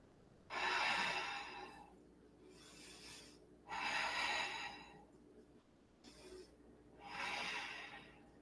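Slow, deep breathing in an exalted warrior yoga pose, three long airy breaths in a calm rhythm with short pauses between, close and soft.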